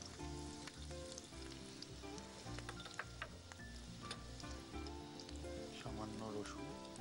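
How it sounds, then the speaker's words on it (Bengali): Chopped onion and ginger sizzle in hot oil in a home kitchen, a continuous crackling fry under background music and occasional soft sounds. "তেল একটু গরম হয়েছে, দিলাম অল্প পেঁয়াজ"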